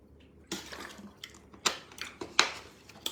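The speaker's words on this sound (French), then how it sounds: "Je vais boire un peu d'eau, ma bouche a séché." Water poured into a drinking cup, a few soft splashes and trickles with light clinks of the vessel, quiet and close in a calm room.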